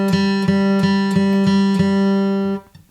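Guitar G string picked with a flat pick: six evenly spaced plucks of one sustained note, close and clear with a bright attack, stopping abruptly near the end followed by faint handling noise.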